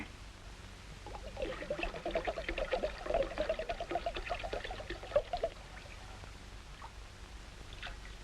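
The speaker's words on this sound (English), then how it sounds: "pour it in the bowl, William" Grape juice pours steadily into a bowl, a close, continuous trickling and splashing that swells in the middle and then tapers to a quieter dribble, with no talking.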